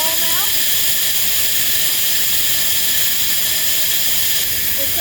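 A farm feed mixer churning two tons of lamb creep feed, a loud continuous mechanical roar and hiss with steady grinding underneath and no speech.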